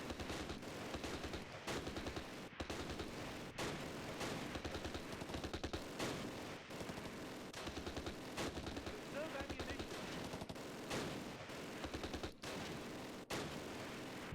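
Near-constant machine-gun and rifle fire rattles through a World War II battle at Pegasus Bridge in Close Combat: The Longest Day. Dense rapid bursts with sharp single shots cut through, and a voice talks under the din.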